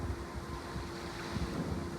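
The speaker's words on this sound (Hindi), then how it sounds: "इतनी हवा चल रही है ना" Strong wind roars and buffets against the microphone during heavy rain, a dense, constant rushing with low rumbling gusts and no voices.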